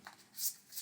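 Playing cards for a solo tabletop game being shuffled by hand, two short, crisp riffling bursts about a third of a second apart, soft and close, with no talk over them.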